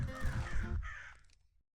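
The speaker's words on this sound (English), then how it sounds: "Oh god, no, see? The crows." Crows cawing in the video game When the Crow Sings, a dense burst of harsh calls over low rumbling that fades out within about a second and a half.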